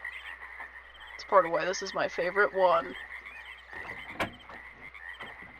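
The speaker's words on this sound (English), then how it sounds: "Oh, I love the frog sounds." Frogs croak in the forest setting of the video game Myst, a burst of several rhythmic, ribbed croaks close together over a steady high insect-like drone, with a person talking briefly over the ambience.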